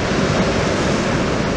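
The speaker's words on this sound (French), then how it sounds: "Ben oui, mais il y a du vent" Strong wind buffeting the microphone on the beach at Anglet, a loud continuous roar mixed with the wash of surf, with no breaks or talk.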